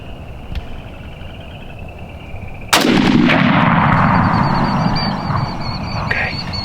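A single loud rifle shot fired at a deer during a hunt in Alabama cracks sharply up close, then rolls away in a long, fading echo across open ground.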